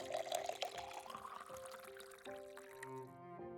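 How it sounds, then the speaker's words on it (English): In the visual novel Flowers: Le volume sur Hiver, a fresh cup of coffee is poured, a soft, steady liquid stream against gentle background music with tonal chimes. "Then she gets to her feet to pour me a fresh cup."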